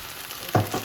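Chopped mushrooms hit a hot pan with a sudden close sizzle and a second stirring burst, brief frying sounds over a quiet kitchen background.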